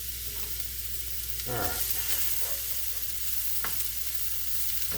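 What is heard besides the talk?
vegetables stir-frying in a pan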